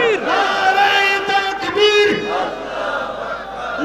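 A crowd at an Urs religious gathering at Ektiarpur Darbar Sharif roars a takbir response in unison. The loud, sustained chant swells and falls over several seconds, with raised voices layered together.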